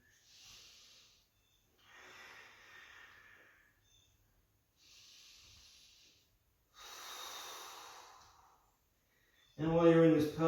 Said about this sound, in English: Let the breathing be nice and steady and even